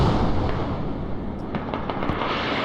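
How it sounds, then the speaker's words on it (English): A mortar barrage in the Squad video game produces a rolling rumble of distant explosions, with a run of sharper crackling pops and bangs in the latter half over a sustained low roar. "that was an absolute wasted mortar barrage"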